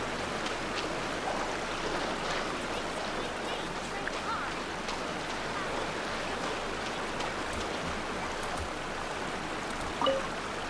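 A waterfall in the Genshin Impact game world, a constant, dense rush of falling water filling the whole stretch evenly without pause, with a faint brief knock near the end.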